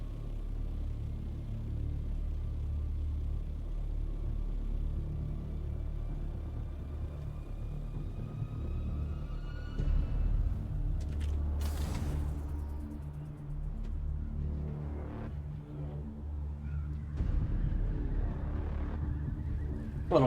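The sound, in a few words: sandstorm wind rumbling in the video game Dune: Awakening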